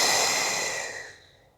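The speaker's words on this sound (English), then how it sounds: "Exhale." A long, airy exhale during a guided breathing exercise, starting strong and fading gradually over about a second and a half, heard alone without speech.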